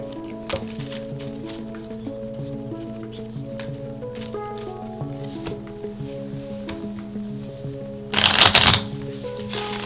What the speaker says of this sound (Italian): Andiamo a mischiare le carte.